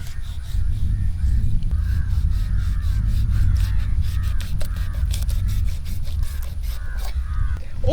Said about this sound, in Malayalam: ഇനി നമ്മുടെ മീനൊന്ന് വരഞ്ഞു കൊടുക്കാം കേട്ടോ നമുക്ക്.